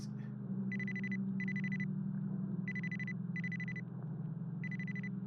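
A phone rings in a video game, sounding as five evenly spaced bursts of a bright electronic trill over a steady low background hum, with no talking.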